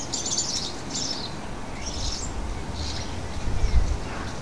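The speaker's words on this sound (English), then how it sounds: "The young starlings battle over the rights to the coconut of happiness. The young birds really show their assertiveness and squabble frequently." Young starlings squabbling in a garden, giving repeated harsh high chirps in short bursts over steady background noise.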